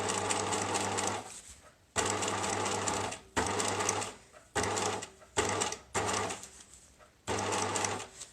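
A sewing machine stitches a bicycle frame bag in loud, close bursts of rapid mechanical whirring, each lasting about a second, with brief quiet gaps between them while the fabric is repositioned.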